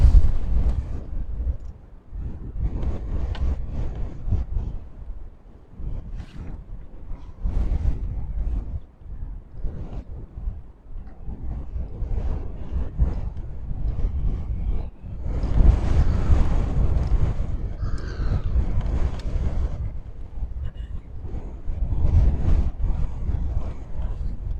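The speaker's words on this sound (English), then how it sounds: "the wind's definitely picking up now. It's twice as strong as when I got here." Strong gusting sea wind on Gorleston pier buffets the microphone in heavy, rumbling surges, with the wash of surf underneath. The gusts rise and fall continuously and grow loudest partway through.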